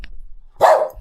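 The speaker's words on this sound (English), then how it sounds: "Dog." A single loud, close dog bark, short and sharp, in an otherwise quiet room.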